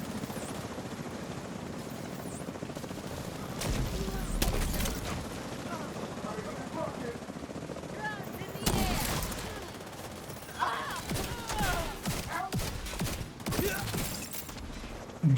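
A video game helicopter drones through the scene while bursts of gunfire and explosive crackles break out in clusters, loud and layered over the rotor noise.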